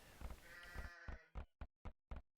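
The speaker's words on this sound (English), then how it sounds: "More sheep over here." Sheep bleating in the strategy game Age of Empires, a burst of overlapping bleats followed by four short, distinct bleats in a steady rhythm, clear and close with no talk.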